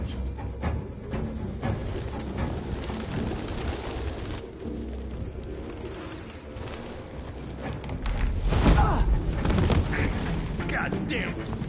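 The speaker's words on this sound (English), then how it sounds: "Goddamn fucking pigeons!" Pigeons flapping and cooing in the game Detroit, a cluttered mix of wingbeats and bird calls that grows louder and busier near the end, with voices talking over it.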